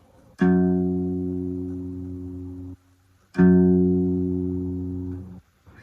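A guitar's low E string is plucked twice, each note ringing out and fading for a couple of seconds before being damped.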